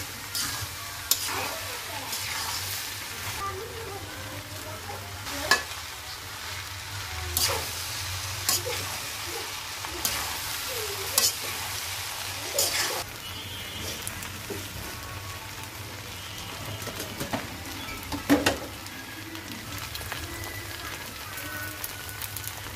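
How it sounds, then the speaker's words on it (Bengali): Cooked pulao rice is stirred and fried in a pan, with a steady sizzling hiss and repeated scraping and clinking of a spoon, continuous and close over a long stretch. "অল্প অল্প করে পোলাও দিয়ে মিক্স করে নিব"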